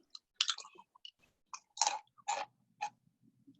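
Someone crunches loudly on a crisp snack, a series of sharp, close bites and chews in irregular rhythm with silence between them.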